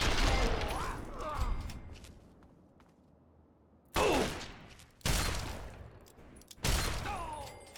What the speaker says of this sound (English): I feel as though I can probably just take them out with my shotgun.